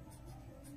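Marker or chalk scratching out letters on a classroom board during a seventh-grade math lesson, a brief, faint run of scraping strokes.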